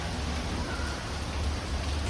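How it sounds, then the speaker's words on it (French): Steady rain falls in Tokyo, a dense even hiss of drops hitting surfaces nearby, constant and unbroken with no voices. "je vais vous montrer la pluie"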